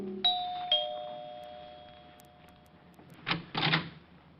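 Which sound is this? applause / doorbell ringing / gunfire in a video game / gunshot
doorbell ringing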